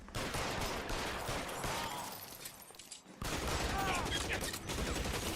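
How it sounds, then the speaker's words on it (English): Rapid bursts of gunfire in the crime game L.A. Noire, a loud fusillade of close shots that breaks off briefly and then resumes just as dense. "He like opened fire directly into my body."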